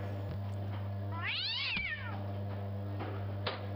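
A cat meows in the video game Dirk Dagger and the Fallen Idol, one long, rising and falling call over a steady low hum, followed by a few faint clicks.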